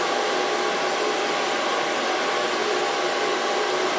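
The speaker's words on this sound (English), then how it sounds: "Let's start blow drying her hair" A hair dryer blows a woman's hair dry during a bob haircut with a fringe, giving a steady, loud, unbroken whoosh at close range with no pauses.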